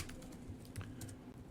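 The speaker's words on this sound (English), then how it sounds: "then I'm going to type my description" A handful of light, scattered taps on a computer keyboard sound close and fairly quiet as a property listing description is typed, with a soft low murmur underneath.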